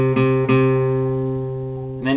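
Guitar notes fretted on the 5th string at the 3rd fret, plucked twice in quick succession near the start and left ringing, then plucked again just before the end, close and clean with no talk.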